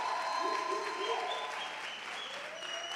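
An audience at a poetry event in Africa breaks into sustained applause, a dense wash of clapping that tapers slightly toward the end, with a voice faintly audible over it.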